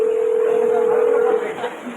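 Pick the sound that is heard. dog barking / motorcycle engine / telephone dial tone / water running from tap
telephone dial tone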